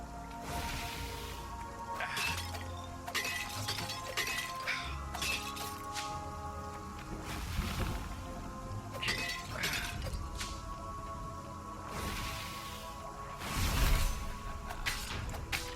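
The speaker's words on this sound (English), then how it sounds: "smashing things was fun." Repeated smashing and shattering of breakable objects in the action game Stories: The Path of Destinies, with bursts of crashing, clinking debris and swishing strikes recurring every couple of seconds over a steady game soundscape.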